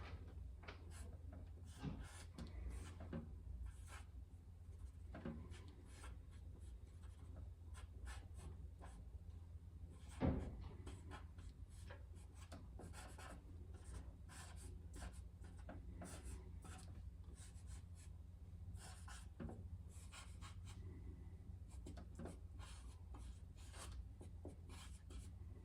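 A pen drawing lines on paper, soft faint scratching strokes repeating steadily at close range in a quiet room, with one brief louder tap midway.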